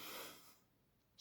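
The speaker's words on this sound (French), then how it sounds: "le chat ronfle toujours à côté" A cat named Chiron snores nearby, one soft, breathy exhale that fades away in a quiet room.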